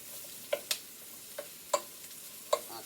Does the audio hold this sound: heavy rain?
no